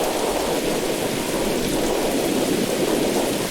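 Steady, dense rain pours continuously through a video game storm with a low thundery rumble beneath, loud and unbroken with no voices.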